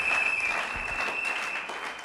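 Congregation clapping together during a church service, a dense steady wash of applause throughout, fairly loud and close, with a faint sustained tone running beneath it.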